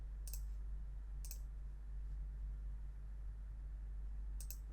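Computer mouse clicks while working in PowerPoint: three sharp, isolated clicks spaced about a second or more apart, close and crisp over a steady low electrical hum.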